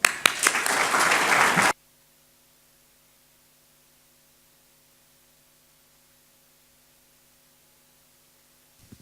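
A brief burst of audience clapping greets two speakers at a Vancouver talk about cycle chic. It is loud and dense for under two seconds, then cuts off into near-silence with a faint electrical hum.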